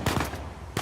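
Pistol shots in the Uncharted 4 video game, fired at enemies from behind cover: two quick loud bangs near the start and another at the end, with a softer rumbling game ambience between them.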